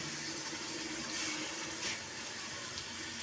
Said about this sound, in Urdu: تو اب ہم نے اس میں پانی ڈال دینا ہے